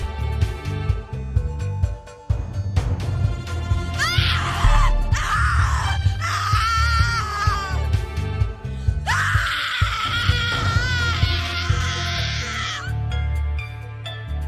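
A woman screams in The Cat Lady video game, with repeated loud, wailing cries over a low, dark musical drone. No one speaks during the screams.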